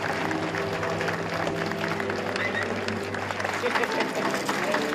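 Crowd cheering and applauding outdoors at the Icelandic presidential inauguration as the new president and his wife wave to the gathered people; dense sustained clapping and cheering with a commentator speaking over it.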